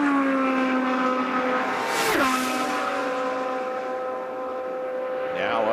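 An IndyCar race car screams down the Indianapolis front straightaway during 2010 Indy 500 pole-day qualifying, a loud sustained high-pitched engine whine that dips in pitch as it passes, with crowd and track ambience underneath.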